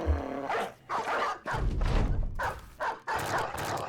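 Barking dog in the Battle Brothers video game: several loud, close barks in an uneven rhythm, separated by brief gaps, with dull thuds mixed in and no talking.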